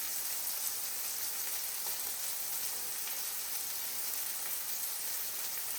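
Strips of bacon frying in a pan for a big budget meal, giving a steady, dense sizzle and crackle that holds evenly throughout with no talking over it.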